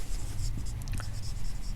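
Chalk or marker scratching on a board during a vector calculus lecture, a steady run of short scraping strokes close by with no talk over it.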